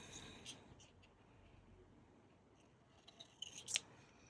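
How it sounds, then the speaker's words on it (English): Scissors cut paper for a trifold folio craft project, faint short snips building to a crisper cluster near the end, over quiet room tone. "I'm going to take that there and cut that there"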